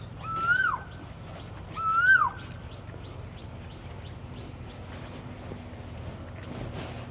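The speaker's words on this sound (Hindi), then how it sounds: "देखें कोयल बोल रही है" A koel in a Braj forest gives two quick rising calls close together, followed by softer faint chirps from other birds over a low ambient hum.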